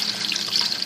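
Water pours steadily into a soup pot for low-sodium chicken soup, a continuous hissing, splashing stream that is close and even for under a second, with no voices.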